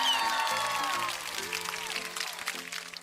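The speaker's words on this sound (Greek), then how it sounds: "Πρέπει όλοι να χειροκροτήσουμε τώρα για αυτή την αυτογνωσία αυτού του μαθητή" Short burst of scattered clapping from a small group, fading quickly, with some overlapping voices and musical tones in the background.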